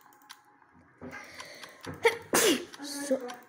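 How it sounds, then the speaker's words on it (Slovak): One sharp sneeze from a man bursts out loud and close, with brief murmured talk and small sounds before it. "Sorry, že som si kýchol."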